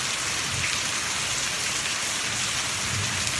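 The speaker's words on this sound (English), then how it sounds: "we thought the storm was calming down, but it seems to have picked back up again" Heavy thunderstorm rain pours steadily and loudly outside, a dense unbroken hiss with low rumbling thunder underneath, no voices.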